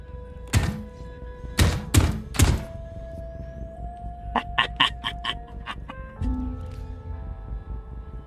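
An auto-tracking turret in Scrap Mechanic fires a few loud thunking shots, followed by a quick burst of sharp clicking pops and a lower thump, all over a steady game hum.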